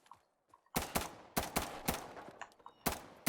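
A P90 submachine gun fired on full auto in Insurgency Sandstorm: several sharp, loud bursts of rapid shots split by brief pauses, close and with no voices.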